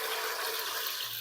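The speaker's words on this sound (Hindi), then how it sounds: "अब हमने क्या करना है कि इस अरवी को हमने इस ऑयल में डाल देना है।" Taro root (arvi) drops into hot cooking oil for frying, giving a steady, dense sizzling hiss close by with no break.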